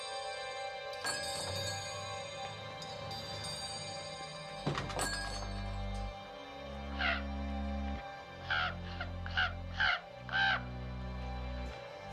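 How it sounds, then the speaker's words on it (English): A raven caws outside in a rough, repeated series, one call and then a quick run of four or five, fairly distinct over a steady background drone with a couple of dull thumps earlier. "That's a nice crow you got out there. It's a raven, my friend."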